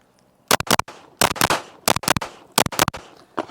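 Pistol shots from a Walther PDP Compact fired in quick pairs at about 7 yards, with five sharp, loud doubles evenly spaced and each pair cracking close together.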